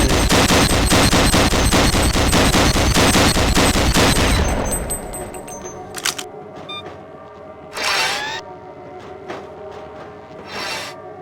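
Rapid automatic weapon fire from the Gunman Chronicles video game, a loud dense burst running about four seconds before cutting off, followed by quieter mechanical clicks, whirs and brief hissing bursts like venting or overheating.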